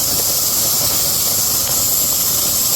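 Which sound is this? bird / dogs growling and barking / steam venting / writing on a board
steam venting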